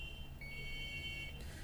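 A multimeter continuity tester beeps with a steady high tone for about a second while its probes touch an inverter thermistor wire connected to ground, over a low electrical hum.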